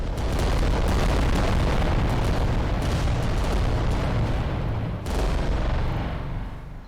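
A huge weapon drops from a war titan and explodes in Adeptus Titanicus: Dominus, a continuous, loud, roaring blast rumble that holds for several seconds, dips briefly, then surges again before fading.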